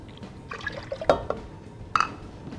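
Apple juice poured into a cooking pot on a stove, making soft liquid splashes and a few bright glassy drips in short bursts, close and fairly quiet.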